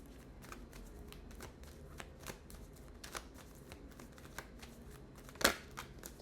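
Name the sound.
tarot cards being shuffled and drawn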